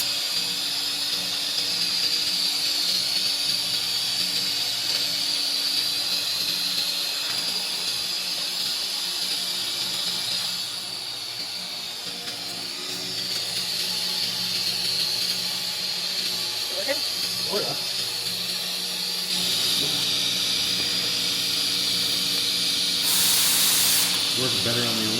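Aluminum being welded gives off a sustained hissing, spraying buzz with a low hum beneath, continuous and close; it dips briefly midway and surges again near the end, with faint voices in the background.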